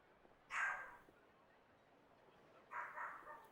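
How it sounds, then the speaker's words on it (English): A dog barks in Genshin Impact during a Natlan character quest: two short, sharp bursts about two seconds apart, near and fairly loud over a quiet background. "My dog's barking."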